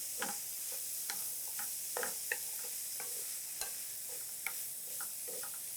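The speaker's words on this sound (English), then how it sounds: "So we're going to add the shrimp. We're going to saute those up" Shrimp sauteing in a pan, a constant close sizzle broken by irregular clicks and scrapes of stirring, no voices.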